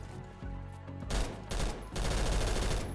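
Rapid automatic fire from a new lightweight close-range gun with an 800 rounds-per-minute fire rate in Roblox Phantom Forces, heard as loud dense bursts over a continuous game soundscape with no talking.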